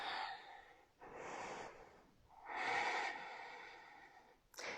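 Audible breaths during a Power Vinyasa yoga pose: close, airy inhales and exhales alternating in slow rhythm, with a sharp intake at the end.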